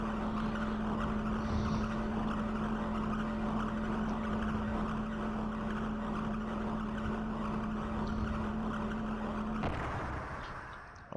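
In the Xenogears video game, a lift descends into the depths with a continuous mechanical hum and a steady low tone, running at an even level before cutting off near the end.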